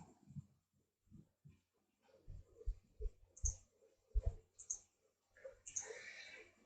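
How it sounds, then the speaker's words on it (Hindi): Computer mouse buttons click on a desktop in a series of sharp, close ticks with irregular gaps, some in quick pairs, fairly faint in a quiet room. "click the right button on the mouse on the desktop,"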